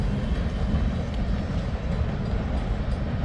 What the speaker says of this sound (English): I was sorry for yelling over the sound of the train